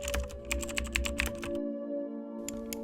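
Fingers tap a computer keyboard in a quick burst of close, crisp keystrokes, a short pause, then a couple more clicks, with a faint background hum and no talking.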